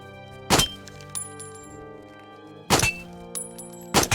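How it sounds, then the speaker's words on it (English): Gunshots at targets in a VR video game, three sharp, loud cracks spaced about two seconds apart over a quiet ringing tonal background. "Try to shoot all of them."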